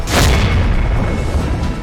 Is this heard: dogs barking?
no